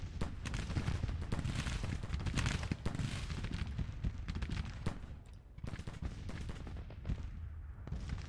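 Civil War musket and cannon fire from the Grand Tactician strategy game, a dense, continuous crackle of massed gunfire with heavy low booms, loud and sustained throughout without letting up.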